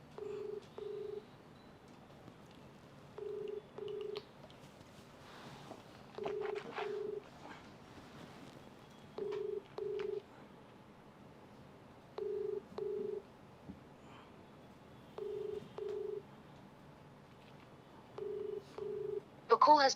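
Outgoing phone call ringing back in paired bursts, a double ring tone repeating roughly every three seconds at moderate level over faint room noise, with a brief louder noise at the very end.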